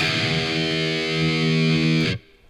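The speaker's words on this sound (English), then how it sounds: "The low E string sound like this." A single low, heavily distorted electric guitar note on the open low E string, tuned to 425 Hz standard E, rings out steadily for about two seconds, then is abruptly cut off.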